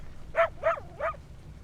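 A puppy barks three times in the video game A Story Beside, with short, high, evenly spaced yips heard close and clear over a faint background hum.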